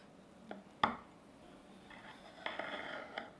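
A knife slices through a homemade carrot cake cheesecake on a kitchen surface, with a sharp tap against the plate or board, then a few soft scraping and clinking touches, close and quiet, with no talking.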